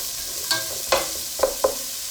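Chicken curry ingredients browning in a pan, with a steady sizzle broken by a few sharp stirring scrapes and clinks spaced out across the moment, no talking.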